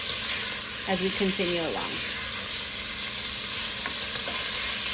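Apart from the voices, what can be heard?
chicken cooking in a frying pan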